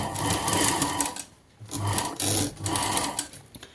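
A sewing machine stitches a fall onto a saree in three close, rapid whirring bursts separated by short pauses, with no voices.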